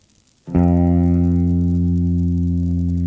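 After a brief quiet moment, one low electric guitar note, F at the first fret of the low E string, is plucked and held, sustaining evenly with a warm, slightly gritty amplified tone.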